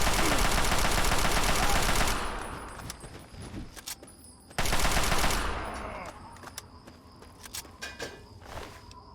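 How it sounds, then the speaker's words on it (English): Rapid, continuous minigun fire in Fallout 3 roars loud and dense for about two seconds, trails off, then bursts again at full force before fading into scattered shots. "Minigun."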